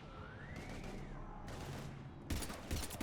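Gunfire from Mass Effect erupts in dense bursts of shots, growing louder and heavier toward the end against a steady background rumble.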